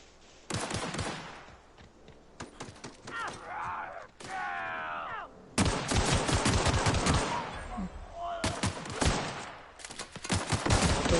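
Video game gunfire in rapid automatic bursts, loud and close, broken by pauses filled with groaning and strained voices, with shooting returning in heavy dense volleys.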